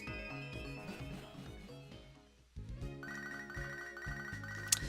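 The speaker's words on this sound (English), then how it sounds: "let's go ahead and get this phone call Professor Elm really quick" In Pokémon Soul Silver, a phone rings as a repeating electronic melody with bright chiming tones. The tune stops briefly, then resumes with higher bell-like notes over game music.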